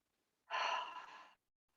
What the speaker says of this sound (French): J'inspire.